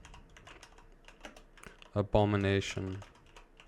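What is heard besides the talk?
typing on a computer keyboard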